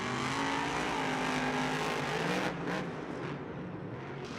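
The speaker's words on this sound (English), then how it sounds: "These trucks are going so fast on this track right now." Monster trucks roar at speed around a stadium dirt track in Arlington, Texas, a loud sustained engine drone that drops slightly in the last two seconds.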